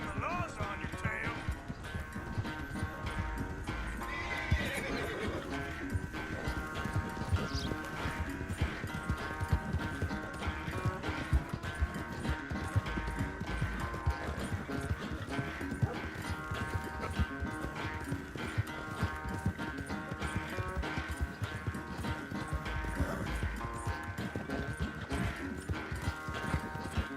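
Horse hooves clip-clopping at a steady gallop in Red Dead Redemption 2, continuous and fairly loud throughout, with occasional whinnies, blended with game music and a voice speaking over it.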